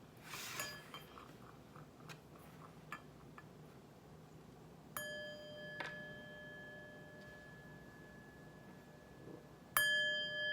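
A metal chime struck once to open a tarot reading, ringing with a bright sustained tone that fades slowly, then struck again near the end after a few quiet clinks.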